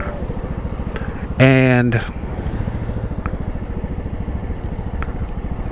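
A GTS motorcycle climbing over a road overpass: a close, steady, rhythmic engine thrum throughout, with a brief loud tonal burst early on and a person speaking briefly.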